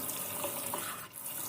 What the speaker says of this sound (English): you just add your water